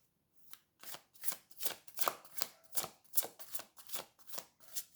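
Tarot cards being shuffled in a quick, even series of about a dozen crisp riffling bursts, close and clear with no talking.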